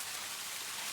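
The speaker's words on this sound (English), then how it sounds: "I sat in my car for a moment, listening to the rain intensify." Rain falling steadily outside a parked car near an old mall parking lot, a dense, even hiss with no pauses, moderately quiet and alone without voices.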